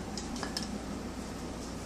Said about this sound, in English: For a knife and a fork.